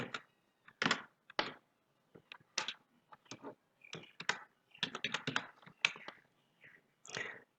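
Fingers type a user ID on a computer keyboard to log in to a Zerodha demat account. Crisp, close clicks come in uneven bursts with short pauses in a quiet room.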